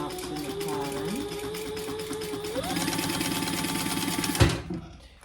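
A sewing machine runs steadily, stitching together clutch wallet pieces along the seam allowance, its motor hum rising in pitch partway through before stopping with a sharp clunk near the end.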